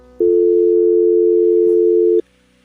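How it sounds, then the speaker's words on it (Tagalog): A cellphone call tone sounds once as a single loud steady beep lasting about two seconds, clean and alone, then cuts off to quiet. "Inilabas ang kanyang cellphone at may tinawagan."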